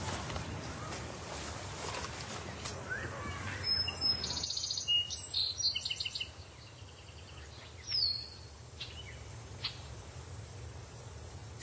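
Tits call faintly in a Paris orchard garden, with thin high chirps scattered over a steady background rush of outdoor noise.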